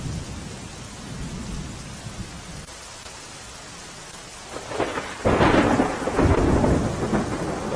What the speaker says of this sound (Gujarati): ભારે પવન સાથે અનેક વિસ્તારમાં વરસાદ પડી રહ્યો છે.